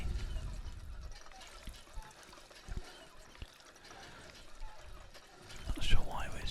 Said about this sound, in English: We can actually just literally pump water